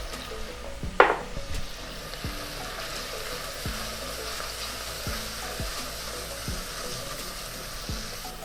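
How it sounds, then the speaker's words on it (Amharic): Crushed ginger, onion and turmeric frying in a pan, with a sharp sizzle burst as they go in, then a steady low crackle and a few soft stirring knocks against the pan. "ያደቀቅነውን ዝንጅብልና ሽንኩርት እንጨምራለን ወዲያውም እርዳለኝ እርዱንም አብሬ ጨምሬ ያቁላላለሁ"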